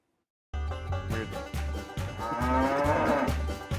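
A cow moos in a long, loud, drawn-out call played as a sound effect, alone with no talk, after half a second of silence.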